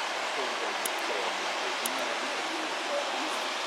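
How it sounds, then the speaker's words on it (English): Rainwater rushes down hillsides in streams toward a lake during a heavy downpour, a steady, even broadband roar like a distant waterfall, continuous with no distinct events. "there's a lot of rain coming down off these hills into the lake right now"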